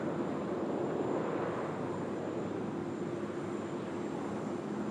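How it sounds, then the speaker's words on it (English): An Etihad airliner taxis toward the Alpha 1 holding point at runway 16 right at Sydney Airport, its jet engines a steady, continuous roar and whine, heard from a distance with no break. "Etihad just about to head round to the Alpha 1 holding point there at runway"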